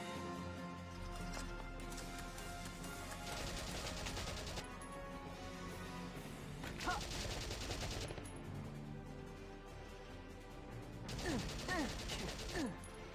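Gunfire and battle noise in the Valkyria Chronicles video game, with steady dense shooting and mechanical clatter under a continuous soundtrack, swelling in a few louder bursts.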